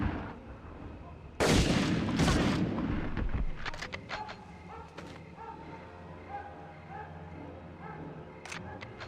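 M1 Garand rifle fire in the video game Medal of Honor, during a mission to rescue a G3 officer: a loud, dense burst of shots up close, followed by several sharper, fainter cracks and clicks.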